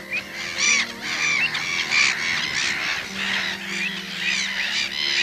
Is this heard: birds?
yes